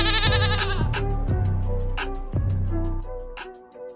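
A goat bleats in a short podcast intro effect, several wavering cries heard loud and upfront over a musical backing that fades toward the end.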